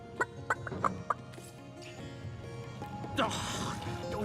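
In the video game Divinity Original Sin, a chicken gives a few sharp, close clucks early on, followed by a longer squawking burst amid faint background game sounds.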